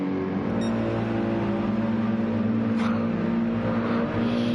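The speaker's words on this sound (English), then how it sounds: "Races down the start-finish straight for the 28th time" A race car engine in a racing video game drones steadily down the start-finish straight, a continuous loud tone holding near-constant pitch throughout.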